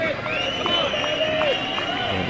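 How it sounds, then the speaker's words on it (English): A baseball crowd at an NBC World Series championship game between the Hutchinson Monarchs and Hays Larks swells with cheering and shouts on a 0-2 pitch, a steady roar of voices with whistles rising over it. "And the crowd comes alive on this 0-2 pitch"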